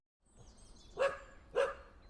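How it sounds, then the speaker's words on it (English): A dog barks twice in an outdoor field recording. The two loud, distinct barks come about half a second apart over faint background ambience. "I can find the dog barks through the entire field recording"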